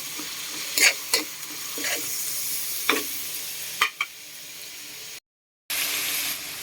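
Tomatoes hit pork frying in a pan for ginisang sitaw, producing a bright, continuous sizzle broken by several sharp stirring scrapes and clacks, then a brief gap before the hiss resumes.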